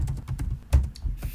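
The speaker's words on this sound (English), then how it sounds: "So the faster you type, the better for you." Fast typing on a computer keyboard, a quick irregular patter of close, sharp key clicks with a few heavier strokes.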